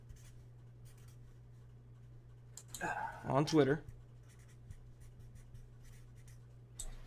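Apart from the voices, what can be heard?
writing on a piece of paper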